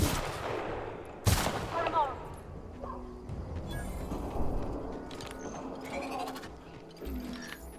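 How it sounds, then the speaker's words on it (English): A tactical shotgun firing in The Outer Worlds, one sharp loud blast standing out early amid busy game noise, with clicking mechanical sounds and scattered smaller impacts afterward while a voice talks underneath. "tactical shotgun"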